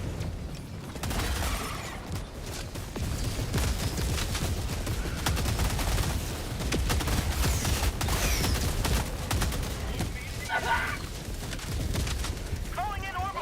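Orbital strike explosions and rapid gunfire in Helldivers 2 on Helldive difficulty, a dense barrage of booming blasts and automatic shots with several sharp bursts over continuous battle noise.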